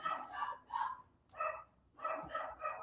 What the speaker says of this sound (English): You guys can't hear my dog barking